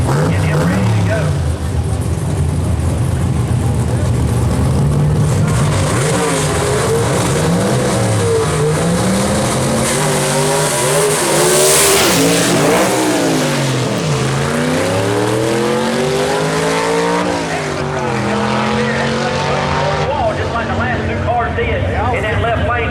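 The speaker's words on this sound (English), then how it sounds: "He kept stabbing the clutch, changing gears, and gets it down the racetrack." A 1933 Thames panel van gasser accelerates hard down a drag strip, its engine climbing and dropping through repeated gear changes in sweeping pitch rises, loud and close, with a commentator talking over it throughout.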